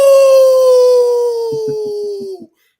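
A man imitates a howl: one long, loud, falling wail that ends in a few short breathy catches before cutting off.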